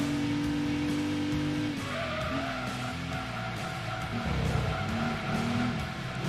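Rear tyres spinning and squealing in Gran Turismo 2, a sustained loud engine drone with a long wavering tyre screech over it.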